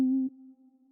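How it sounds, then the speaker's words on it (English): A single synthesized piano-like C4 note from Synthesizer V, a clean steady tone starting sharply, held briefly, then dropping to a quieter sustained hum that fades, heard alone. "So what you heard now is sort of a piano."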